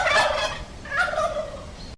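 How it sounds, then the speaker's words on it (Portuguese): A turkey gobbles in two rapid rattling bursts, the first at the start and a second about a second later, loud and close with no other voices. "por que o peru faz glu glu glu glu glu quando fazemos barulhos?"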